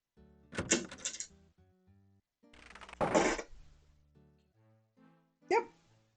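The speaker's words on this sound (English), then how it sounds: "You hear someone moving the bar and unlocking the bolts on the other side of the door." In Quest for Glory IV, a heavy bar is dragged and bolts clank open on the far side of a door, three distinct clattering bursts separated by short pauses, with no voices.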